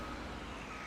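Reversing alarm from a tractor in Farming Simulator 19, a steady electronic beep over a continuous low engine rumble, brief and close.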